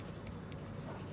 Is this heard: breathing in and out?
no